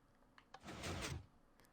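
A Minecraft piston door slides back in a brief burst of mechanical shuffling that swells and fades over about a second, preceded by a couple of soft clicks, heard alone.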